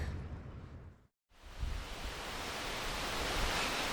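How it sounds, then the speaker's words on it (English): A strong gale blows across an exposed hilltop block on a bitterly cold morning, a dense, steady roar of rushing air that cuts out briefly near the start, then surges back loud and continuous to the end. "it is blowing a gale, as I'm sure you can hear"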